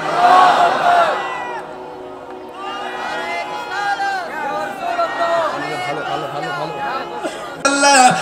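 A crowd at an Islamic sermon gathering shouts back in unison in answer to a takbir call, a loud swell of many voices at the start and again near the end, with a preacher's speech in between.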